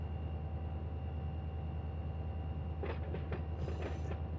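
A train running in the Run 8 train simulator game, a faint steady low rumble of rolling rail cars with a few brief clanks and a hiss near the end.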